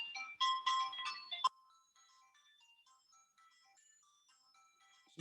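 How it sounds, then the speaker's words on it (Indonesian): A telephone ringtone chimes loudly in a bright, tonal burst for about a second and a half, then cuts off, leaving near-silence with faint tones, during an online thesis supervision session. "saya menjawab telepon dulu ya"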